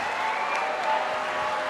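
Dense, steady applause and cheering from a crowd at a youth judo match in Tbilisi, continuous and fairly loud throughout without a distinct voice.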